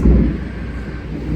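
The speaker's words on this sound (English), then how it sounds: "Thunder." A deep, loud rumble of thunder, heaviest at the very start and then rolling on steadily as a broad low roar for the whole short stretch.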